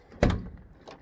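A VW T25 campervan door being handled during bodywork, a single solid thunk with a brief rattle, followed by a fainter knock near the end.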